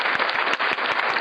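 An audience applauds in a dense, continuous wash of clapping, loud and close, over about a second.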